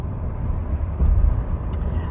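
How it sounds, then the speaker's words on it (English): A large truck rumbles past on a road, a loud close low roar that swells briefly and stays heavy, with a faint hiss near the end and no talking. "Whoa, hello, truck. Yes, you can have our lane."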